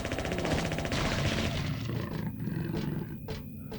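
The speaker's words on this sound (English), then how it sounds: "They just growl like a lion." Monsters in the horror video game Silent Hill 3 growl like lions, a loud, sustained roaring snarl with rough, gritty texture, easing off slightly toward the end, with no talking.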